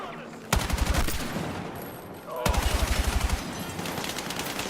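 Automatic gunfire from a Battlefield video game match, two rapid bursts of close, loud rattling shots separated by a short lull, with faint game voices in the background.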